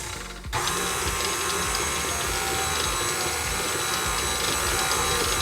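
An electric mixer runs steadily on flour, salt and baking soda, a dense mechanical whir and rattle that starts abruptly after a short quieter moment and keeps going at an even, close level.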